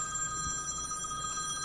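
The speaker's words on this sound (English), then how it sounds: "That was actually my phone going off" An iPhone rings with a steady electronic trill, even and fairly loud, holding without a break and with no voices over it.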